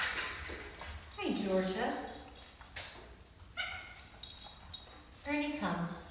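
Young puppy Ernie whimpering and letting out a few short yips and barks during a recall training session, close by and interleaved with a person speaking.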